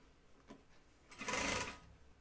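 A zippy sewing machine stitches a 5/8 inch seam on a flight suit in a short, quick burst of motor whirring that rises and fades, after a faint earlier tap in the otherwise quiet room.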